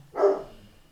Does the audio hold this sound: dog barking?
yes